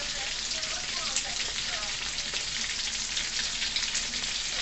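Shrimp coated in coconut breadcrumbs fry in hot oil in a pan, giving a steady, dense crackling sizzle that carries evenly from start to finish.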